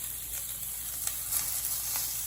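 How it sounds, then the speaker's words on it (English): Pieces of beef searing in a pan over a gas flame, a steady crackling sizzle with a few brighter pops, close and even throughout, no voices. "I'm gonna probably sear each of these pieces of meat on both sides"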